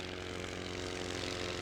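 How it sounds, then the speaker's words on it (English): Enemy aircraft in The Great War: Western Front, a steady droning propeller-engine hum with no breaks, moderately loud and alone. "The enemy have aircraft today."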